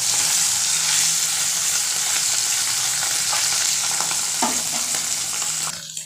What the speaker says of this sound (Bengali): মাছে প্রচণ্ড তেল ছিটাচ্ছে